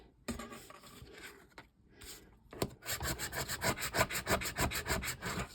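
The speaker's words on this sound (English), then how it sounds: "I'm rubbing some of this stuff off the edges." Material is rubbed off the edges of photographs to age them, a close, rhythmic series of dry scraping strokes that grows faster and steadier after a few scattered rubs.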